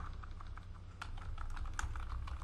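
Close, steady typing on a computer keyboard while a router command is entered, with a fast patter of light key clicks and a few sharper taps over a low background hum.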